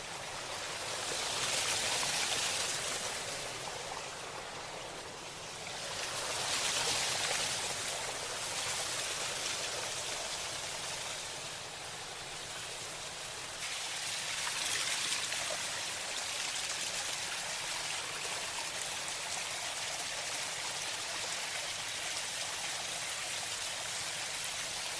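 A stream flows steadily nearby, its soft continuous rushing and trickling wash gently swelling and easing in waves, with no voices heard.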